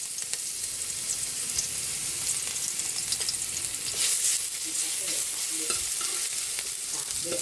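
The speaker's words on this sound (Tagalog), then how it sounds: "Magigisa na po tayo ng bawang, sibuyas," Garlic, onion and tomato sautéing for pinakbet, a steady close sizzle of frying with stirring and a few scraping clinks, louder in the second half.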